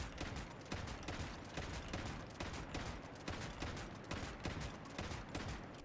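A shotgun in the video game Fortress Warfare fires in two-shot bursts. The sharp reports repeat in a steady rhythm at low volume, and nobody speaks.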